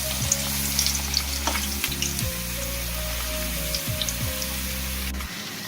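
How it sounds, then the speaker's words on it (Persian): Homemade potato chips fry in vegetable oil with a loud, dense and steady sizzle, close up, plus occasional stirring clatter before the sound cuts off near the end. No one speaks. "در روغن رستنی میپزیم"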